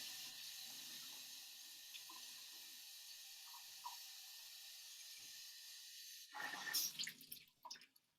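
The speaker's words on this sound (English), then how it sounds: "You need to wash your brushes out or just get some clean water." Paintbrushes rinsed out in water during a studio painting class, a steady faint hiss of running water followed by a brief closer burst of splashing and swishing near the end.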